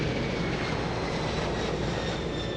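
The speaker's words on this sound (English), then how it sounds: "We are on a jet." Steady, loud jet engine roar inside an airliner cabin before departure, a continuous broadband drone with a faint high whine and no talking.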